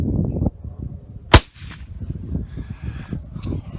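A single sharp, loud report from a suppressed .308 rifle firing 168-grain Gold Medal Match ammunition cracks out mid-clip, with a brief echo trailing into quiet outdoor background noise.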